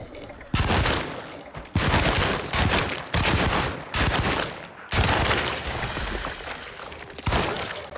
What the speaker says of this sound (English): The Tommy gun is not terribly powerful.